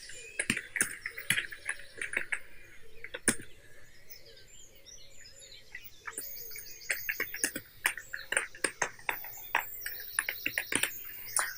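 Company name typed on a computer keyboard, scattered quick key clicks in short bursts and pauses, fairly faint, over a soft background hum.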